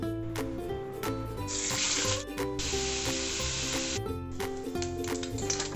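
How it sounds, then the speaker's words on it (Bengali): Prawns fry in hot mustard oil in a wok, producing bursts of hissing sizzle that swell and fade several times beneath continuous background music. "তেল গরম হলে আমি চিংড়ি মাছগুলো দিয়ে 2 পিঠ ভালোভাবে ভেজে উঠিয়ে নেব"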